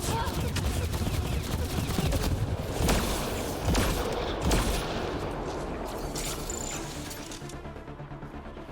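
Gunfire in an ambush in Mass Effect Andromeda, dense rapid bursts of shots crackling over a noisy battle bed, loud at first and gradually thinning out toward the end.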